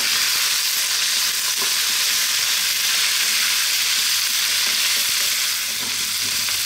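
Eggplant and onions frying in a pan over fairly high heat for a potato eggplant curry, giving a steady, loud, unbroken sizzle with faint stirring scrapes throughout.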